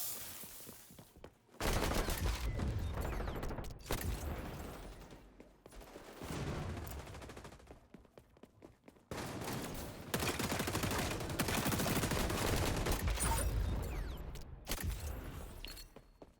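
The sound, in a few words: gunfire from a gun in the video game XDefiant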